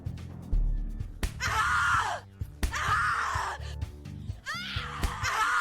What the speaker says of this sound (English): Scream louder, little bitch. Scream your lungs out.